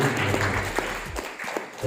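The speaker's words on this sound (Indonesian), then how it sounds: "beri aplaus sekali lagi untuk" Brief burst of audience applause at a youth politics and nationhood school forum, a steady wash of clapping from a seated crowd.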